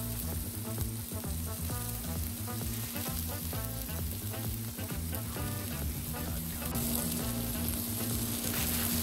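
Smash burgers fry on a Blackstone griddle with a steady, close sizzle and crackle, even and continuous, over a low background hum with no talking.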